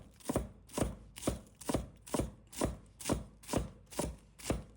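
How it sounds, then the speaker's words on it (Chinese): A knife chops spring onions into small rings on a cutting board, giving nine crisp, evenly spaced strikes in a steady rhythm, each close and clear with nothing else heard. "准备一把小葱，先把一大半切成葱花"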